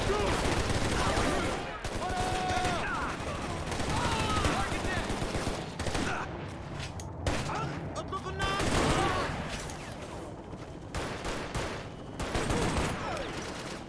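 Sustained gunfire from the Shadow Ops: Red Mercury video game, dense volleys and machine-gun bursts running loud and continuous throughout, with brief lulls and voices mixed in under the shooting.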